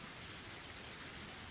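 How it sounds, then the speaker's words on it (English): Heavy rain in the Higurashi When They Cry game pours down as a steady, dense hiss with no breaks, close and full, alone without any voices. "The rain was still pretty intense."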